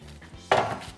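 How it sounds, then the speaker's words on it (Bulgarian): Hot oven-roasted new potatoes are tipped into a dish of dill and garlic, giving one quick, soft clatter and rustle against a quiet kitchen background. "Сипвам горещите картофки при копъра и чесъна."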